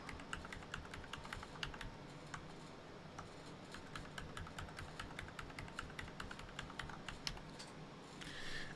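Steady clicking of keys on a computer keyboard as a password is typed into a Windows Server 2025 setup, fairly close and continuous for several seconds with no talking.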